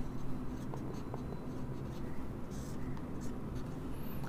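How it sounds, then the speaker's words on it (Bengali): Chalk or marker scratches across a board as a chemistry reaction is written out in an organic chemistry lecture, with short close strokes and taps and faint speech in the background. "আমি একটু এখানে লিখতেছি, দেখো বিক্রিয়াটা হচ্ছে খুবই সিম্পল। আমি রিঅ্যাকশনটা লিখে দিচ্ছি।"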